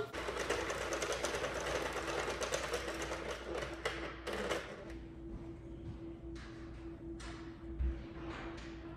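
A Sentro knitting machine is cranked steadily, giving a rapid rhythmic clatter of plastic pegs that runs close and fairly quiet, pausing briefly and restarting in shorter bursts toward the end.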